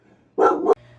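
A single sharp dog bark, close and loud, lasting about a third of a second against a quiet room.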